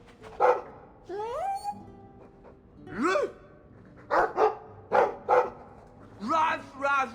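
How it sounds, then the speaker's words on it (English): A dog in a video game gives several short barks and yips spread across the moment, mixed with rising whine-like calls, while a person talks over it. "I like the doggy."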